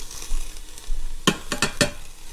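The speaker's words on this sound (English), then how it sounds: "We're gonna mix it up." Vegetables and udon noodles with mushrooms, cabbage and green onions being mixed in an Instant Pot: a quiet stretch, then a quick run of four close scraping, clattering stirs.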